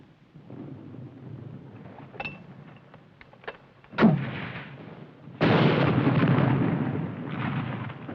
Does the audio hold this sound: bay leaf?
no